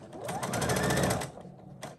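Sewing machine stitching a quarter-inch seam, a rapid rhythmic whir of needle strokes lasting about a second before slowing and stopping, with a soft click after.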